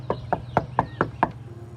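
Six evenly spaced knocks on a door sound close and firm in a quick steady rhythm, followed by a low hum.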